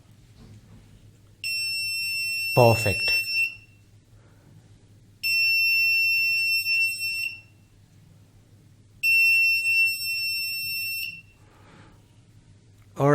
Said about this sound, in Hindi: and let's see if it can turn on the buzzer